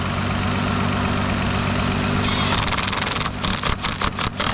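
A car engine idles steadily after a throttle repair, a close, even low hum that gives way to a rhythmic, pulsing chatter near the end.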